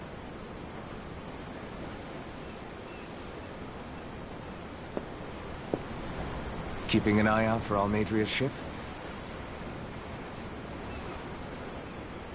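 Steady ocean surf in the video game Tales of Arise, a continuous broad wash of waves and wind, with a brief line of spoken dialogue partway through.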